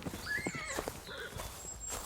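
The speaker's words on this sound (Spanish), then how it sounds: "pasó rápidamente por delante de ella un jinete blanco como la nieve, vestido de blanco, montado en un caballo blanco" A horse ridden by a rider passes quickly, hooves clip-clopping in an uneven trot with a brief whinny, mixed with a dramatized storybook soundscape of birdlike chirps and rustling, moderately faint throughout.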